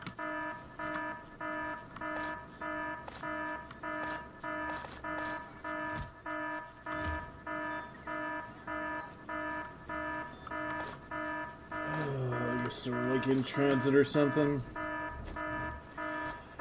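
In the factory game Factorio, an alarm repeats in a regular pulsing beep pattern about twice per second throughout. Someone talks briefly over it, and a louder warbling tone swells near the end.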